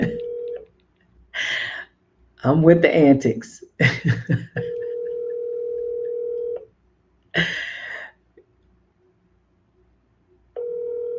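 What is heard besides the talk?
phone call dialing and ringing on speakerphone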